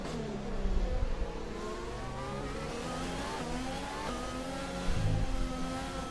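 A Formula 1 race car engine in a racing video game, loud and close, revving high and steady with whining gear-shift tones and rising pitch sweeps through a bend, with no talk over it.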